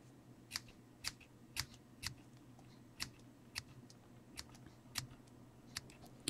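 Scissors snip through washi tape to cut the top off a tape feather, about a dozen short sharp crisp snips at an uneven quick pace, close and fairly quiet against a faint hum.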